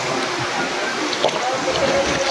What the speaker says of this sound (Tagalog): Umaagos siya galing sa bundok